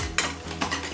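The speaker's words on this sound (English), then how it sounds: "Give that a mix." Homemade Big Mac sauce with gherkins is being stirred in a bowl, with short scraping swishes and a couple of light utensil clinks, close and soft.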